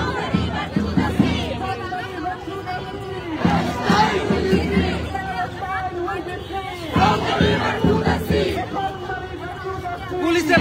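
A dense crowd chants rhythmic slogans in loud repeated bursts on a leftist protest march heading toward the US embassy, voices close and massed, with chatter filling the gaps between chants.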